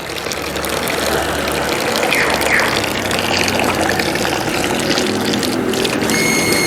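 A Shimizu PLW-150 BIT booster pump drives water out in a strong, steady spray, a loud continuous gushing hiss over a low motor hum, with no voices.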